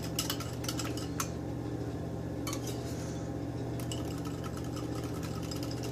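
A whisk or spoon clinks steadily in a bowl as hot cheese-soufflé sauce is stirred into egg yolks to temper them, with soft intermittent scraping over a constant low kitchen hum.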